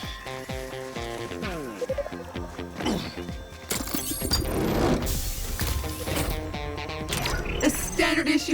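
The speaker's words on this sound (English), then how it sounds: "the supply crate has unlocked." A supply crate unlocks in Revenge of the Savage Planet with a busy run of mechanical clanks, ratcheting clicks, whirring gear sounds and rising electronic sweeps, growing louder and denser toward the end.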